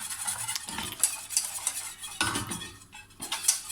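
A utensil stirs and scrapes pastry cream cooking in a pot on the stove, with bursts of metallic scraping and a soft bubbling sizzle underneath.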